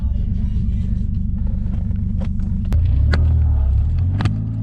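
A BMW E36 with a swapped 1JZ engine idles with a deep, steady rumble, then pulls away as the engine note swells low and loud, a few clicks and clunks over the top.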